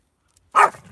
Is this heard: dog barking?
yes